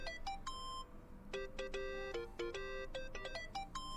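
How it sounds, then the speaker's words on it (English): A mobile phone ringtone from the video game Yakuza: Like a Dragon plays a bright melodic electronic tune of repeated chiming notes that runs steadily for the whole stretch over a low background hum. "Think that's your phone, man."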